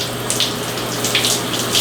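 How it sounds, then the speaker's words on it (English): Cold water running hard in a gym shower: a steady, loud, close hiss of spraying water with a constant low hum underneath, no talk. "Do the cold shower."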